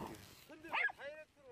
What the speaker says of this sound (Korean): 겹겹이 묶인 매듭을 풀려고 하자 애처롭게 개 짖는 소리가 들립니다.